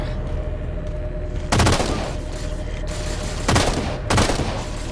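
Gunfire strikes a ship's hull in the Halo 4 video game, arriving as three loud, sharp bursts of impacts over a steady low engine rumble.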